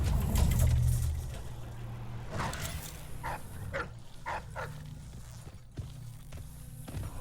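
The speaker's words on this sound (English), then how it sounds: "I'm also getting eaten alive by dogs" Dogs attacking the player in the video game Dishonored 2, with snarling and barking bursts over a rumbling game ambience, plus a few short sharp hits and footstep-like thumps in the middle.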